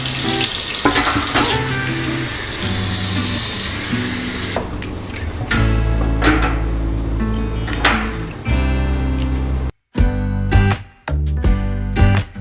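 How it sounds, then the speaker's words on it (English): Running tap water splashes loudly and continuously over a wooden cutting board being washed in a sink, the spray shifting as the board is turned, then cutting off briefly and resuming in short bursts toward the end. "When I wash the cutting board that is wooden, I like to make it wet on both sides"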